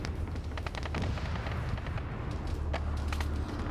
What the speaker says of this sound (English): now there's a tank shooting at him from up here